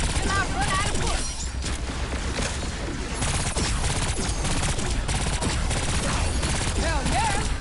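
Rapid gunfire from shooting in the video game Agents of Mayhem keeps up bursts of loud automatic shots and crashing impacts, with game effects and dense action layered throughout.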